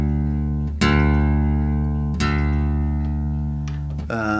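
A sustained low open D string note on a guitar in open tuning rings out, plucked again twice so each attack restarts the steady tone, clear and close with no talking.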